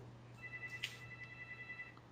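A phone rings faintly in a room, a soft warbling electronic ringtone pulsing steadily over a low hum, with no talking.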